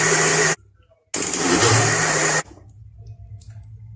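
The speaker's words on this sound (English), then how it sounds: "So we're going to blend it now for some time." A blender whirring while blending black seed oil, in two loud motor bursts, a short one and then a longer one, separated by a brief pause and followed by quieter background noise.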